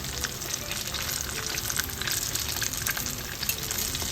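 Eggplant fries in hot oil, keeping up a steady, fairly quiet sizzle with dense crackling pops and no talk over it.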